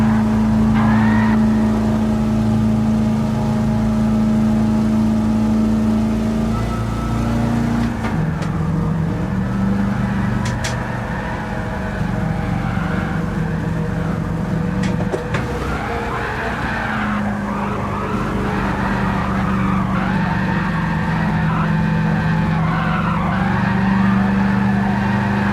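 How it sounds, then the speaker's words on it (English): A Miata's engine drones and revs in Gran Turismo 7 during drifting, with sustained tire squeal and skidding over the steady engine note, loud and continuous for the whole stretch. "You're telling me you wouldn't want to drive around in a Miata with this engine?"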